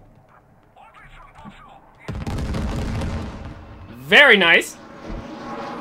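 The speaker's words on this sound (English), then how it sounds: "We have an incoming A-10 strike." A-10 close air support strike in the military shooter game Squad, a heavy sustained burst of gunfire and explosions rumbling for a few seconds over quieter battlefield noise, with a voice speaking briefly before it.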